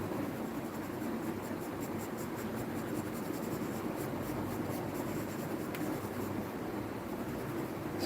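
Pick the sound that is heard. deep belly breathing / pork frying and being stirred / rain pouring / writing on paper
writing on paper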